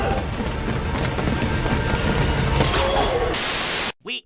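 A grenade blast in a Daredevil: Born Again TV episode: a dense, loud wall of roaring, crackling noise sustained for several seconds, then a sharp burst before it cuts to near silence.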